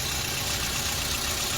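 A 2013 Toyota Etios Liva engine running steadily at idle, heard up close and loud, with an even hum and a hissing, whirring top layer with no break throughout.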